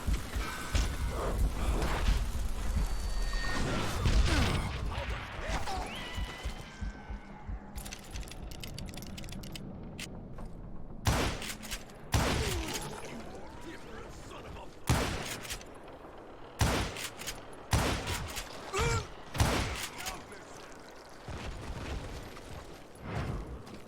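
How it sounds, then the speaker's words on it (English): Gatling gun fire in the western shooter Call of Juarez: Gunslinger, with bursts of rapid gunshots and loud sharp cracks over dense mechanical clatter and battle noise. "Kid Curry opened up on me with a goddamn Gatling gun."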